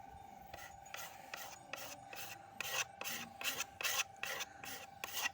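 Rhythmic rasping strokes of rubbing down rough teak wood by hand before polishing, about a dozen scrubbing passes repeating steadily at close range with no talking.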